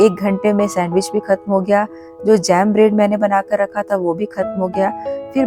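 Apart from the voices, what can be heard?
No everyday noises stand out.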